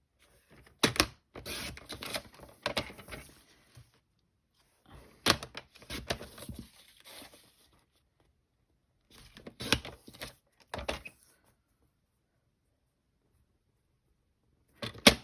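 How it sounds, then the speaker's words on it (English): Cardstock pieces cut for card making, with three bursts of sharp clicking and slicing strokes separated by quiet pauses, close and crisp, like a paper trimmer blade sliding through card. "So I'm cutting them to 1 7/8 square for these bits."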